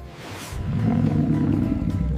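A tiger's roar rises after a brief quiet start and holds as a loud, deep, rumbling growl through the rest of the short stretch, with no talking.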